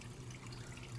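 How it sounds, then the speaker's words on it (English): Steady trickle of water dripping continuously from a stiff, poorly closing pond drain valve, a soft, even flow with no pauses. "the drain valve is dripping non-stop"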